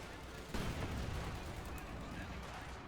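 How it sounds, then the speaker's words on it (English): Katyusha rocket and mortar fire in the real-time strategy game Company of Heroes 2, a dense roar of explosive blasts beginning sharply and rumbling on, loud and continuous. "Mortar fire threatening to snuff them any moment as well there"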